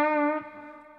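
A single sustained note from a Fret King Geoff Whitehorn Corona electric guitar on a clean amp channel rings out clearly, then fades quickly within a second.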